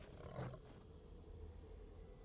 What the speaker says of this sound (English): There's a cougar or a mountain lion or cougar, whatever. It's a big giant cat. And it sounded hungry.